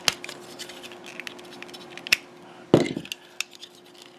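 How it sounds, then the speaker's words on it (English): Plastic parts of an Iron Factory toy figure snap and click as the lower arms are pulled off, a few sharp clicks with one louder crack midway, close and quiet. "I'm going to rip off his lower arms."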